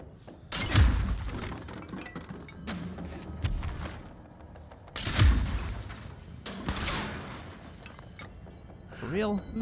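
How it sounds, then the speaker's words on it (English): Gunfire in the game Control hits as sharp, crashing impacts with shattering debris in two heavy bursts, separated by scattered thuds and clinks. "Who's shooting at me now? Who shot me?"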